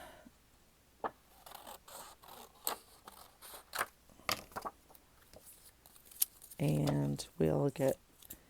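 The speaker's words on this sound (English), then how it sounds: "let's cut a strip of this" Scissors snip through a strip of material in a series of short, crisp cuts at close range, with a person talking over and between the snips.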